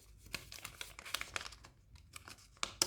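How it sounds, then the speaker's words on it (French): Paper crackles and crinkles as a crease is pressed while folding an origami crane, a quiet string of irregular rustles and sharp snaps, with a louder crisp crackle near the end. "Donc je marque le pli, je ressoulève"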